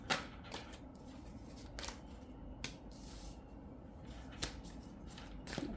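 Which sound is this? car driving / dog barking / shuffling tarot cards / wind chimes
shuffling tarot cards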